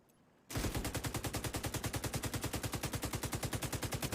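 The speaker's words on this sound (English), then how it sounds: "I'm just shooting at nothing here." Rapid automatic gunfire in the video game Tom Clancy's The Division 2, a loud steady burst of evenly spaced shots starting abruptly after a brief quiet moment and continuing without pause.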